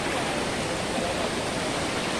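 Fast-flowing floodwater of a river rushing past an embankment during flooding in Aceh Utara, heard as a steady, loud, dense roar with no voices.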